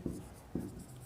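Two slow strokes of chalk or marker writing on a classroom board, each a soft scraping swipe, close and quiet with a low room hum beneath.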